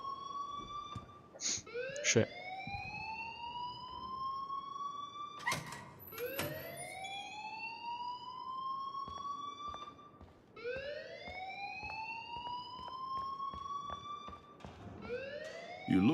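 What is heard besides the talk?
alarm ringing in the video game Life Is Strange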